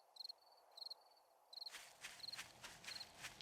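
Soft, quick footstep-like taps in the survival game 7 Days to Die, short clustered bursts repeating at intervals, faint and close, mixed with a thin high chirping tone and a low background rumble.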